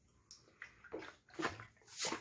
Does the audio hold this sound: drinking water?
yes